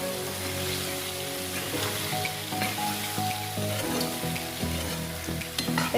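Ridge gourd and fried onions are stirred in a hot pan, giving a continuous close sizzle broken by irregular scraping and clinking of the spatula against the pan, with no voices.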